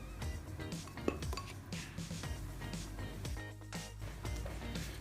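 Banana, oil and sugar being gently mixed in a bowl, with continuous close scraping and clinking of a utensil against the bowl over a steady background of music. No talking.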